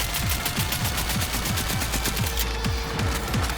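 Sustained automatic machine gun fire from a Panzer tank in the Cyberpunk 2077 video game, a fast, dense, unbroken stream of loud shots with booming low thuds repeating throughout.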